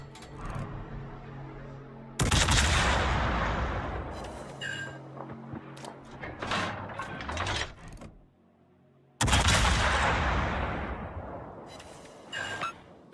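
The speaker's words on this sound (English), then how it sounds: "Let's slip some shots over from World of Wars." Naval gunfire from warships in World of Warships, two heavy booming salvos with long rumbling tails separated by a rattle of smaller mechanical clanks and shots, loud and close.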